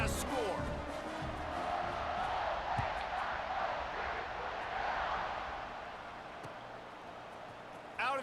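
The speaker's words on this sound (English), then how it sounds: "this crowd is buzzing after that last score" In an NCAA college football video game, a stadium crowd roars after a touchdown in a sustained, broad wash of buzzing noise that slowly fades a little toward the end, with no commentary over it.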